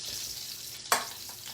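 Chicken browns in a hot pan with red wine, giving a continuous soft sizzle. A sharp scrape or stir cuts in midway, and the frying keeps hissing quietly afterward.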